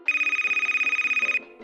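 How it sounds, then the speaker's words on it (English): A telephone rings with a steady electronic trill, one continuous burst of rapid pulsing tone lasting over a second before cutting off, loud and close with no talking. "Then the phone rings again."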